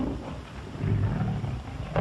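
A tiger roars in a 1934 jungle adventure film, a deep, rumbling sustained growl that swells midway, heard close and loud over a noisy old soundtrack.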